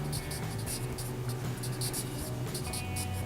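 A pencil drawing T-Rex teeth on paper, soft scratchy strokes repeating in short bursts close up, under a faint steady background hum.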